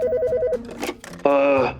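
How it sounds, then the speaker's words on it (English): A telephone rings in a short, loud electronic tone, cuts off, then rings again as a sustained buzzing trill, close and clear over a faint low background. "in only a matter of days, the phone rang"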